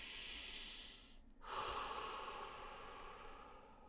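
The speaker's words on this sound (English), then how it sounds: "Okay, inhale, exhale." Slow, deliberate human breathing: a long airy exhale tapers off, a brief pause, then a sharp audible inhale followed by a sustained breath out, close and soft.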